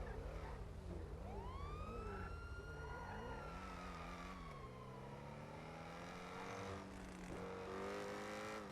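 A police car siren in the GTA V video game wails in long rising and falling sweeps over a steady engine drone, loud and close, with no voices.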